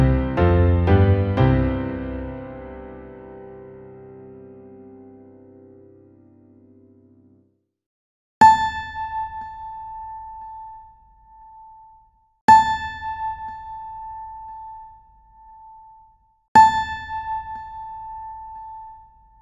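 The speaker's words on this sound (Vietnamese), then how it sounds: "Cao độ vừa nghe là nốt La." A single piano-like chord fades out, then after a gap the ear-training note A sounds as a clear pure tone three times, each struck sharply and ringing for a few seconds, with no voices.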